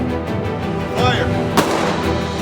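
Handgun shots ring out on a concealed carry qualification range in Illinois, a sharp report near 1.6 seconds over steady outdoor range noise, with an earlier duller blast and faint voices in the background.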